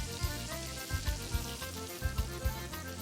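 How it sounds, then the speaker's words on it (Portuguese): Sliced calabresa sausage and a piece of bacon fry in a pan for baião de dois, a close, steady sizzle with small popping bursts throughout. "eu tenho 2 linguiças calabresa fatiada e um pedaço de bacon, certo? Então aqui eu vou deixar dando uma breve fritada aqui."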